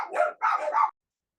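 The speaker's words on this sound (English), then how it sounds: "Dog's barking." A dog barks twice in quick succession, close and fairly loud, the second bark a drawn-out double yelp, followed by silence.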